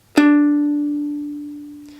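One ukulele note is plucked at the 3rd fret of the E string and rings out clearly alone, decaying slowly over two seconds, the opening of Twinkle Twinkle Little Star.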